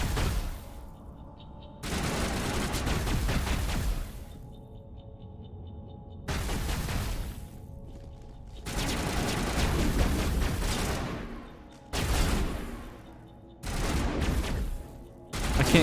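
Bursts of automatic gunfire from AI squadmates in Mass Effect Legendary, loud rapid volleys of several seconds each. Short quieter gaps with a faint electronic hum separate the volleys.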